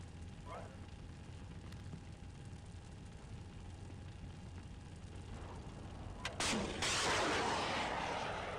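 Artillery shells landing in the Steel Beasts Pro tank combat game: a muffled distant thump early on, then two big impacts near the end, the last a loud, sustained roaring blast over steady engine rumble.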